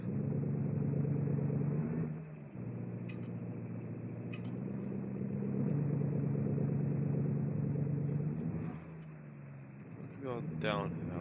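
A 1950s pickup truck in BeamNG strains its engine uphill in all-wheel drive, a steady low rumbling drone that dips briefly and then holds, with a voice talking over it.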